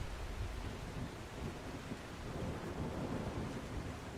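Thunderstorm in the video game The Last Caretaker: a steady, loud wash of heavy rain with deep rolling rumble underneath, continuous throughout with no voices.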